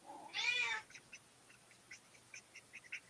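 A cat lets out one clear, fairly close meow near the start, followed by faint scattered chirps and small noises in a quiet room.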